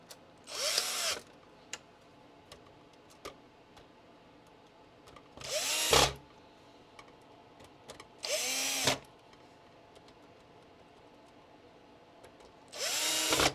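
Power drill driving the bottom screws back into an original Xbox console, four separate short whirring bursts with quiet pauses between them.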